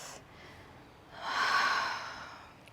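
A slow deep breath during a yoga stretch, a faint airy exhale swelling softly and fading in a quiet room.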